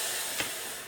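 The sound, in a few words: steam iron pressing a princess seam open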